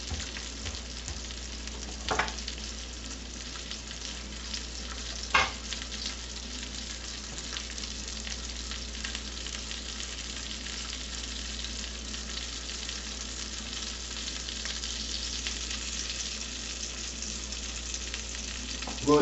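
Pork and beans with franks frying in a pan, a steady low sizzle running throughout with a couple of brief clinks or stirs, close and even, no talk.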